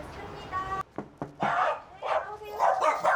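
Several dogs in a training session give a short burst of barks and yips, the sharp calls clustered together near the microphone, with people talking in the background.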